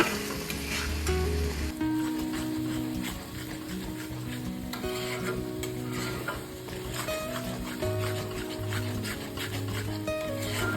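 Paste of turmeric and ground ridge gourd is stirred in a frying pan, with a steady sizzle and continuous scraping of the spoon, close and moderately loud, no voices.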